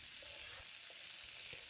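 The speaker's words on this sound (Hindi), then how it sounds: "छौंक लगा देती हूँ चने में।" Soaked chickpeas are tempered with green chillies in hot oil, giving a soft, steady sizzle with faint stirring clinks underneath, fairly quiet and close with no voices.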